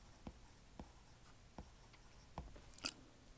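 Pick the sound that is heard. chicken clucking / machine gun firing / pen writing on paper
pen writing on paper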